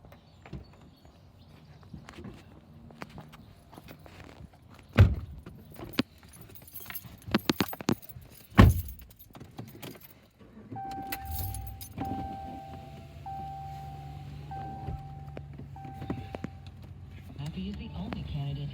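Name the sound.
car driving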